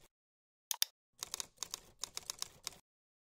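Computer keyboard typing as account details are entered into Sugar CRM: a quick double tap, a pause, then a brisk run of close, crisp keystrokes in uneven bursts.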